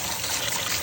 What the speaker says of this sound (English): I get pretty steamy hot water like right away